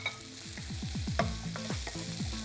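Fried corn being stir-fried over a high flame for a vegetarian pepper fry, with rapid repeated scraping strokes of a spatula in the pan over a steady close sizzle and no talking.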